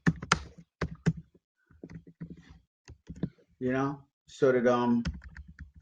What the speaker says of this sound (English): I like to type it out so you guys can screenshot it later